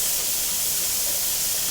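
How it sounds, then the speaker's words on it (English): A pressure canner with spaghetti sauce inside vents steam in a loud, steady, unbroken hiss close by, with no other sounds. "once it starts blowing the steam like that"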